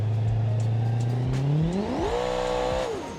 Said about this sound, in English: It still should do a pretty good burnout.